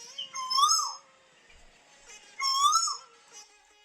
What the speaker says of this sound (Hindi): तभी कोयल के कुहुकने की आवाज आती है।